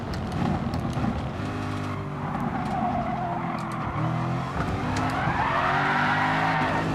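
A race car spinning donuts in a racing video game, engine droning steadily while tires squeal in long, wavering screeches that swell and ease with each rotation, fairly loud and without talk.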